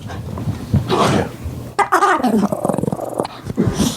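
A dog growls in low, rumbling bursts, close by and fairly loud, with other indistinct sounds around it.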